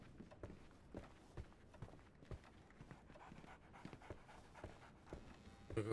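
A dog pants in the Sherlock Holmes The Awakened video game, with quick, steady breathy bursts that repeat close and clear for several seconds. Faint soft footstep-like taps sit underneath.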